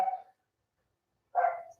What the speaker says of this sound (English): You hear the dog?